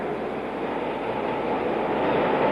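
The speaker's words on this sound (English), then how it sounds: "This is not the last train to Vienna." A train rolls out of a station in Prague with a steady, broad rumble of wheels and cars that slowly grows a little louder, with no voices over it.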